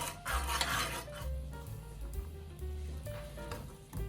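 Spoon stirring a dashi sauce of sugar and dashi powder in a pan over medium heat, soft scraping and clinking against the metal with a faint sizzle underneath, close and fairly quiet.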